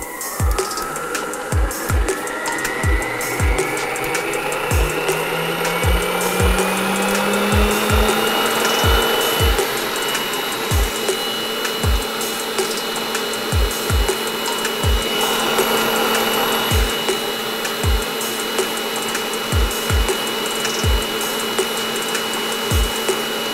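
A Kenmore Ovation stand mixer whips four egg whites with a steady, loud motor whir, while its beaters knock the bowl in regular, evenly spaced clunks roughly once a second throughout.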